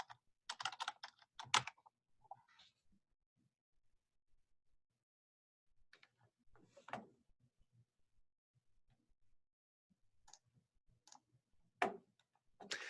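Short scattered bursts of key clicks on a computer keyboard, someone entering information into a form, separated by long silent pauses, close and quiet.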